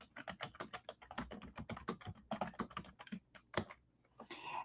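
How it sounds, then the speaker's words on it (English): Quick typing on a computer keyboard during a live stream, a close, steady patter of key clicks in uneven bursts with a brief pause before a final cluster, with no talking. "let me type in here."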